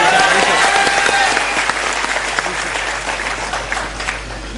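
A rally crowd claps hard, a dense wash of applause that starts loud and slowly thins, with some voices mixed in.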